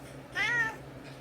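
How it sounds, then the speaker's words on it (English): A black cat gives a single clear, close meow lasting about half a second against quiet room tone. "one of my evil black cats"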